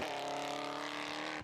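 The engine of a Ginetta G56 GTR race car at Anglesey drones steadily at high revs with strong harmonic tones, then drops away at the very end.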